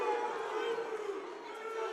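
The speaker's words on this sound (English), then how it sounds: "The crowd explodes." A dense crowd roars and cheers at a high school wrestling match between Cape Henlopen and Caravel Academy, a sustained wash of voices at steady volume.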